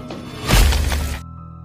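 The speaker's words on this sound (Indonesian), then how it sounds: "mereka menjatuhkan sebuah pot yang berisi abu jenazah" A pot holding cremation ashes falls and shatters in one loud, close crash with a heavy low thud, then quickly cuts off, in a horror film scene.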